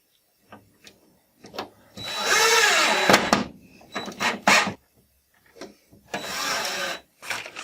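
A power drill drives screws into a mounting board on an electrical installation panel, in several whirring bursts of rising and falling pitch separated by pauses and small handling knocks, close and fairly loud.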